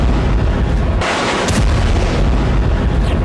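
Rockets and artillery shells exploding during the Gaza war: loud, dense booming blasts and rumbling roar fill the whole stretch, with a sharper burst near the middle, steady and heavy throughout.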